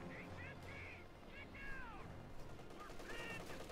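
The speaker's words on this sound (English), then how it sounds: "we got a machine gun duel here between the 50 cal and the MG-34" A .50 cal and an MG-34 trade machine-gun fire in Company of Heroes 2, with bursts of gunfire under battlefield noise and whistling tones, while a commentator talks over it.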